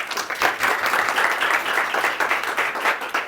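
An audience applauds a professor arriving to speak at a lecture, dense sustained clapping from many hands that holds steady for a few seconds with no voices.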